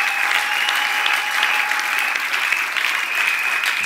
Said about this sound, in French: Acclamons le Seigneur Jésus-Christ